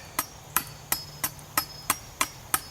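A Gerber Gator machete chops into hardwood with eight sharp, evenly spaced strikes, each a crisp crack with a short decay, close and steady over a faint background hum.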